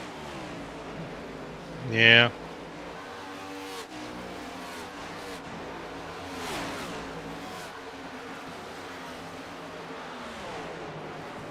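Race cars lap Texas Motor Speedway during an O.B. Builders Cup Series race, with one car roaring loudly past about two seconds in and a steady engine drone continuing underneath a commentator's talk.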